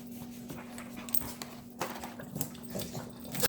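Dogs pant and give small whimpers close by, a restless run of breathy sounds and faint whines, fairly quiet against a steady background hum.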